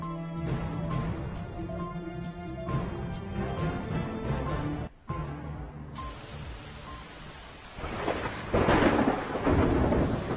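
Loud thunder rumbles over steady rain, with a sharp crack midway and heavier downpour noise building toward the end.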